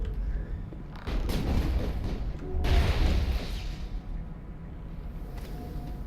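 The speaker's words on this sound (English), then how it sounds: "Okay, that was a warp." Warp attack in the Mass Effect video game, heavy booming blasts and rumbling impacts in quick succession, loud and close, with a second surge midway.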